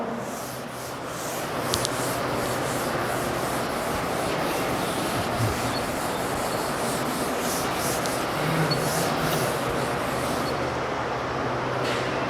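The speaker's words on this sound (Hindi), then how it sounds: "रब कर रहा हूँ उसको मैं।" Writing is rubbed off a classroom board in one long steady scrubbing rasp that runs for several seconds. It sounds close and fairly loud, with no talking over it.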